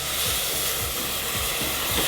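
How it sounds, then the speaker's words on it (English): Milk poured into a hot pan of flour, giving a steady broad hiss of sizzling with a faint low rumble underneath, close and unbroken. "now I'm gonna add in about 1/4 cup of milk"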